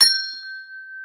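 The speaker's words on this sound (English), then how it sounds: "when I hit the bell, when I ring it" A single bell struck once, its clear metallic ring sustaining as one steady tone that slowly fades over about a second, close and alone with no talk.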